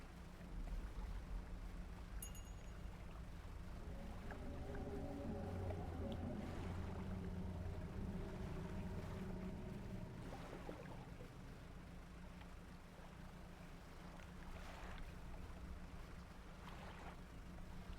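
Boat engine running at speed in the video game Dredge, a steady low drone with a rising tonal hum and water wash, constant and fairly quiet throughout.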